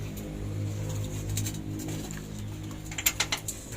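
Nut and bolt being fitted on a Mitsubishi Fuso 6D16 truck, a quiet ratcheting and metallic clicking over a steady low engine hum, ending in a quick run of four or five sharp clicks.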